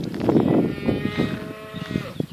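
A cow on a Sardinian hillside lets out a loud, drawn-out moo nearby, its low voice rising and tapering over a couple of seconds against faint outdoor background.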